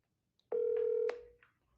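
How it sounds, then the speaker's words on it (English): A phone dialing out on speaker gives a single steady electronic tone lasting about half a second, followed by a couple of short, quieter beeps, all faint against a silent background. "So I'm gonna dial it from my phone and then put it in speaker."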